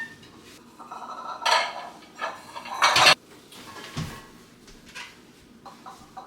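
Bowls and dishes clink and clatter as they are pulled out and set on a kitchen counter before baking meringue cookies, with scattered knocks and rattles at close range and no talking.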